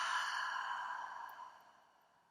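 A long, deep exhale during a guided ThetaHealing meditation, a single soft breath that is close and steady at first and slowly fades away over about two seconds, with no talking.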